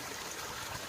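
Water runs steadily into a koi pond being topped up after a partial water change, a soft continuous trickling rush heard alone at moderate distance.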